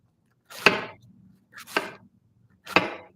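A knife finely slices cabbage on a cutting board in three crisp crunching strokes about a second apart, each a quick crackling cut ending in a firm tap against the board.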